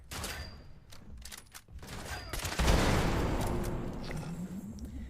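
Gunfire in the Fallout 76 video game: a rapid burst of shots crackles early, then a heavy, loud volley with a booming impact takes over and rumbles on, close and dense, with no talking.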